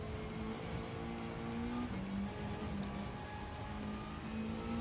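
A race car in Gran Turismo 7 at Deep Forest Raceway reversed: a steady engine drone with tonal whine that shifts in pitch as the revs fall and climb, loud and continuous with no talk.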